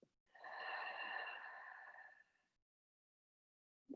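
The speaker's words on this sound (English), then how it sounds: "open up your mouth to breathe it out" One long, deep breath blown out through an open mouth, a soft, close, airy whoosh lasting about two seconds that then fades into silence.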